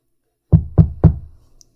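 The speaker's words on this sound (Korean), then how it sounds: "그렇게 잠이 들려는 찰나 웬 노크 소리가 들렸습니다." Three firm knocks on a dormitory room door, evenly spaced and close, each a dull thud with a short decay, then quiet.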